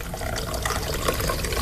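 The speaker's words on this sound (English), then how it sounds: "Pour yourself a little something, John." Liquid pours in a continuous, fairly loud splashing stream as a drink is poured, with no voices over it.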